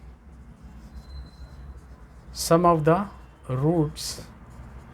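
Pen writing on paper while someone speaks Hindi, faint scratchy strokes running under and between his words in a quiet room.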